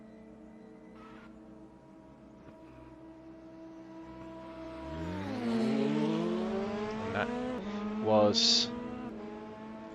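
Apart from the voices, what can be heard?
DTM 92 race car practicing a start, Raceroom video game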